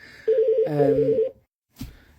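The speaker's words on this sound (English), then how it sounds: "the phones just keep ringing" A workplace telephone rings with a steady electronic warble, loud and close, for about a second, then stops; a brief click follows after a pause.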